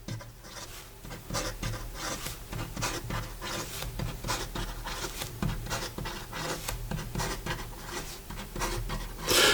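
Rapid scratchy nib strokes from a Visconti Opera Crystal Dark Age fountain pen writing fast on paper with an extra fine line, a steady rasping patter of close, dense strokes running throughout.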